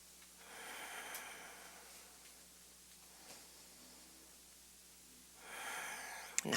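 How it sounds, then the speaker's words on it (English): Even breathing during a yoga session: slow, soft breaths in and out, close and faint over a quiet room hiss, with a longer, stronger breath near the end. "Keep your breaths even."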